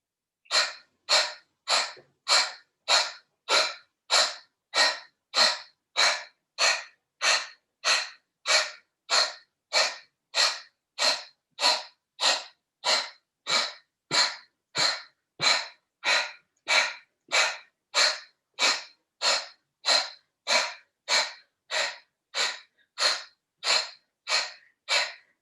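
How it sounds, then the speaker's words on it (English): Steady pranayama yoga breathing, a focused Kriya yoga breath practice, with about thirty forceful, evenly spaced breaths in and out, each a loud airy rush close to the listener, repeating in a fast, regular rhythm with no talk. "we take a breath in, breathe out"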